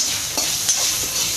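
Chana dal, urad dal, green chilies, grated ginger, curry leaves and asafoetida stirred in a hot pan for masala dosa filling, a steady close sizzle with spoon scrapes sweeping through it.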